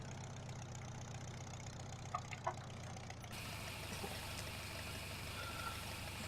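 IH tractor engine idling in a farming video game, a steady low rumble that continues throughout, with a slight change in tone partway through.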